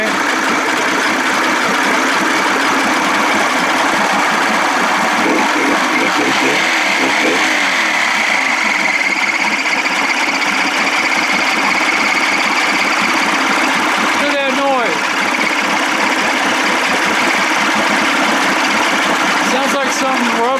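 A 55 hp Evinrude outboard runs steadily at close range with a rubbing, vibrating noise mixed into its drone for the full length, with no pause.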